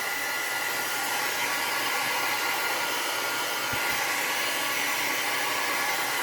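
A hair dryer blows steadily on an art journal page, a loud, constant airy roar that holds unchanged from start to finish with no voices.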